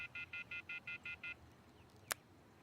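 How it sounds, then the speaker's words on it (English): Seven evenly spaced electronic keypad tones beep on a cell phone in the video game Everlasting Summer, each short and clear, followed by a brief sharp click and then quiet. "I took out my cell phone and dialed the first number from my contact list."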